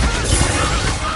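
A Bombarda blast spell explodes in Hogwarts Legacy, a loud, sustained broadband crash and rumble filling the whole moment with no pause, dense and close.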